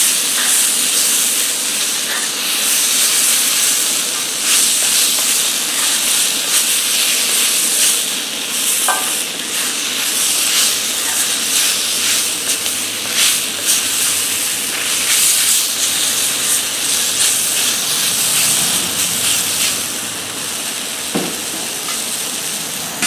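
Shrimp sizzle loudly in hot oil on a DIY skottle, a homemade cowboy wok, with a constant hiss and occasional scraping stirs and tosses, close and unbroken.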